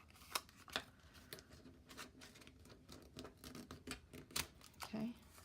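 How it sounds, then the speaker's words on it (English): Paper being creased and folded into a fan-like rosette ornament, with soft rustling, sliding and several sharp crisp creasing snaps at irregular intervals, close and fairly quiet. "I'm going to fold."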